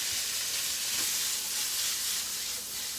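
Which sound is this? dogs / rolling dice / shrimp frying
shrimp frying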